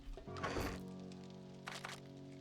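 A wooden table being smashed apart in the survival game 7 Days To Die, with a sharp cracking impact followed by a second splintering hit, heard over a steady hum of game ambience.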